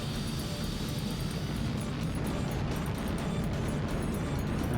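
A fighter jet engine in a flight simulator gives a continuous, dense roar with a rumbling low end and a high whine, holding steady and loud throughout.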